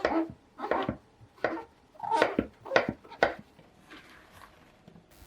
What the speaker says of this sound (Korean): 새송이 버섯은 반으로 자른 다음 길이 방향으로 써세요